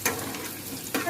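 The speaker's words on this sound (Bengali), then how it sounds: "এর মধ্যে আমি সরষের তেল দিয়ে দিচ্ছি। গরম হয়েছে, আমি রসুনটাকে দিয়ে দিলাম।" Chopped garlic hits hot mustard oil in an aluminium pan, giving a steady close-up sizzle with bursts of crackling at the start and near the end.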